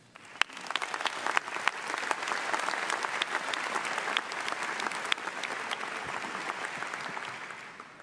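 Sustained applause from a convocation audience welcoming a dean, a steady wash of many hands clapping with a few sharper nearby claps, unbroken for several seconds.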